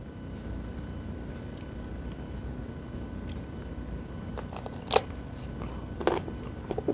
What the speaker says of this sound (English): I can't imagine a food that has a crunchier bite